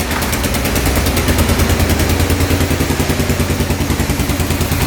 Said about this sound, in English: I was really not expecting it to fire up like that.